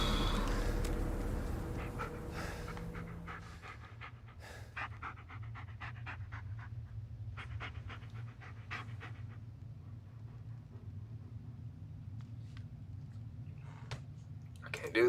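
Bullet, a dog in the Blair Witch video game, pants in steady rapid breaths for a long stretch, soft and fairly close, with a few brief clicks and faint voices at the start.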